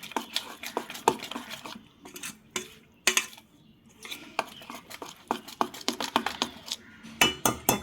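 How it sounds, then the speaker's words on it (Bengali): Semolina idli batter is whisked in a bowl with quick, irregular clinks and scrapes of the utensil against the sides, close and moderately loud. "এখন ফেটিয়ে নিয়েছি।"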